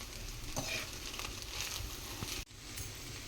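Maggi noodles with Maggi seasoning powder stirred in a pan for an egg Maggi dish: a steady close sizzle with scraping stir sounds, a sharp knock near the end, then the hiss resumes.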